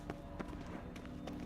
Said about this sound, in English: Footsteps.